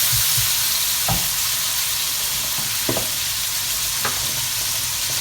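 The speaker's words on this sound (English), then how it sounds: "Depends how crispy you want your bacon" Bacon frying in a pan, with a steady broadband sizzle running throughout, broken by a few short scraping stirs at close range.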